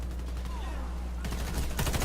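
Pistol fire in the video game Warface: a few sharp gunshots crack over a steady low background hum, with a quick burst of shots near the end.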